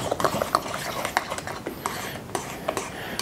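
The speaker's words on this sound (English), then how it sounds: "And now we got our 8 ounces of sour cream we're mixing in there." Spoon stirring 8 ounces of sour cream into a Jiffy corn casserole mix, giving repeated soft scraping clicks against the bowl at a steady close rhythm, with a voice talking over it.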